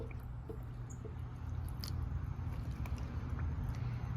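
Water soaks into the soil of a potted succulent with a soft, close crackle of fizzing and bubbling that runs steadily and quietly throughout.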